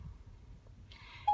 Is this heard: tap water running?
no